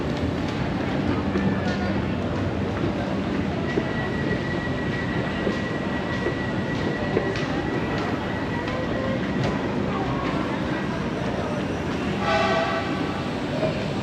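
Trains rumble and roll past at Tanah Abang station in Jakarta, a busy platform under renovation, with a continuous loud rail roar, a sustained horn tone and a burst of squealing near the end.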